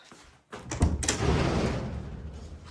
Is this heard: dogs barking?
no